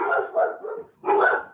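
Dogs barking excitedly at close range, loud yappy barks in two quick bursts separated by a short gap.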